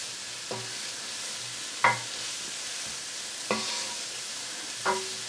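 Spices for a chilli fry in a pan with a steady, close sizzle, broken by four clear scrapes of a spoon stirring at regular intervals.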